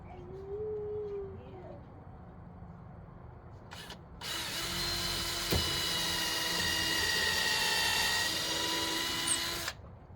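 A power drill drives 3.5-inch screws into a truck camper frame, with a brief burst near four seconds and then a loud, steady whirring run of about five seconds that ends abruptly.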